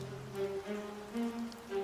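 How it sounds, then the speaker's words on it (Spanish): Steady rain patters across a surface, soft and continuous, beneath sustained musical tones that rise and fall throughout. "la lluvia caía"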